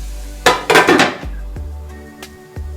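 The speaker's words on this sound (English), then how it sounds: "we should put the lid on it" A metal lid is set onto a cooking pot of shrimp curry, giving several close, sharp clanks and clinks with short ringing decays, followed by a few quieter taps.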